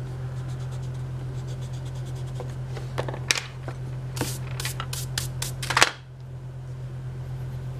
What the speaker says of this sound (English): Let me erase a little bit here, it's kind of messy.